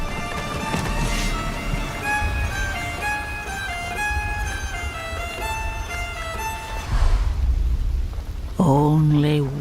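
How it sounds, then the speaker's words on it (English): Rain and rolling thunder of a Diablo 4 storm wash through a game scene, with tonal music layered on top and a sharper crash or voice-like burst near the end. "So let's enjoy the storm a moment"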